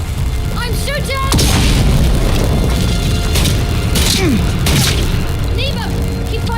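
Gunfire and explosions in the video game Atomfall, loud bangs and booms crashing through a dense battle din, with voices shouting over the chaos.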